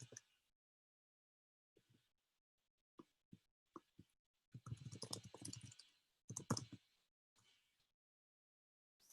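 Scattered, hesitant keystrokes on a computer keyboard, a few isolated taps followed by two denser bursts of clicking, close and quiet with silence between.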